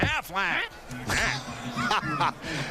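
Repeated nasal, honking quacks from the Aflac duck in a TV commercial aired during a college football bowl game broadcast, the quacks mixed with a voice talking.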